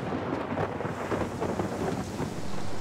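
A thunderstorm over a lake sounds as a deep, continuous roll of thunder mixed with heavy rain and wind, loud and dense throughout with no voices.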